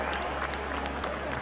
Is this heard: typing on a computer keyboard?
no